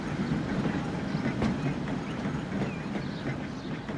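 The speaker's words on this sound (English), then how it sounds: "I do love these new trams." Trams rolling through a city in the transport simulation game Transport Fever, giving a steady rumbling rail run with faint clickety-clack and light wheel squeal, moderately loud throughout with no talk.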